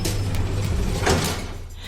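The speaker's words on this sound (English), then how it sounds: "and the doors slid open" Elevator doors slide open in a hotel lobby with a short mechanical whoosh and a soft thud, close by and over low background hum.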